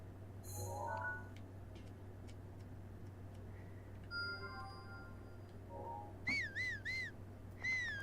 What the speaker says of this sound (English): I gave a whistle.